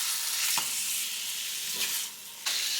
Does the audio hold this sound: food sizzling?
yes